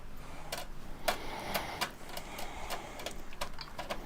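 A screwdriver works screws in a PC case, giving a series of faint, irregular clicks and ticks of metal on metal, close but quiet, with no talking.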